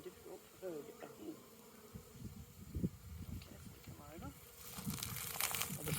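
Honey bees buzz around an opened hive during an inspection of a keeper's colony, a continuous insect drone with rustling handling noises that swells louder toward the end, while people talk nearby.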